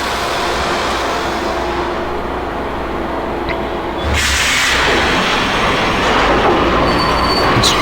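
A subway train rolls along in the video game Max Payne, a steady rumbling ride with rail noise that swells louder midway as the cars pick up clatter and hiss, continuous and close.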